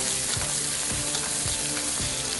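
Onions and capsicum fry for semiya upma in a pan, giving a dense, even sizzle with a soft, rhythmic scraping from regular stirring roughly every half second.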